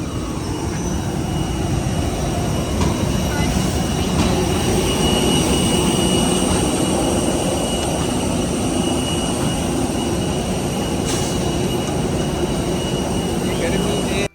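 Jet airliner engines run down after landing on a flight from Karachi to New York, a steady loud broadband roar and whine filling the whole stretch without letting up.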